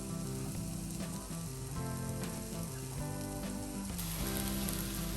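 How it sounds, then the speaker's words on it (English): Beaten egg omelet mixture sizzles and fries in a roomy skillet, a steady close crackling hiss that runs continuously with slight swells and no talking. "Use a skillet that has space so that the egg mixture can spread out a little bit"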